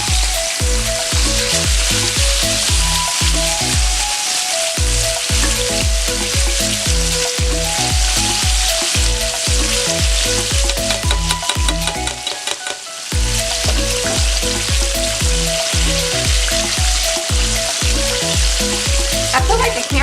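A whole jerk-seasoned snapper fries in hot oil with a loud, steady, dense sizzle, broken by regular rhythmic clatters and scrapes as it is tended in the pan, with no talking.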